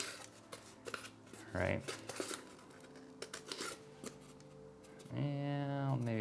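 Scissors cut through splint material in short crisp snips, close and fairly quiet, with someone speaking between the cuts.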